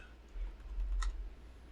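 Typing on a computer keyboard, a few soft key taps with one sharper click near the middle over a low hum in a quiet room.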